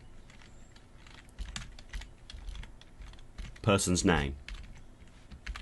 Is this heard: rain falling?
no